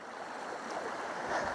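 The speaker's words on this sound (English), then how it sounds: "we've got a wee burn with a wee tiny waterfall" A wee tiny waterfall in a small woodland burn among autumn ferns on Dukes Pass gives a steady, close rushing wash of falling water, unbroken throughout.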